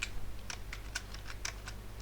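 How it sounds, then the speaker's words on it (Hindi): Someone types code on a computer keyboard, with irregular, crisp key clicks spaced a fraction of a second apart over a low steady hum. "सो इसके अंदर जाऊंगा मैं एंड टाइप करूंगा प्रिंट आर"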